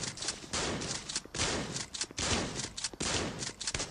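Rifle gunfire in the mobile shooter Gun of Boom, loud rapid bursts of automatic fire with short pauses between volleys, dense and close throughout.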